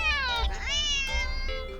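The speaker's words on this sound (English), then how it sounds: "the cat meows sharply at you" A cat gives a sharp, drawn-out meow followed by a second rising, slightly strained cry, close and loud with little else around it.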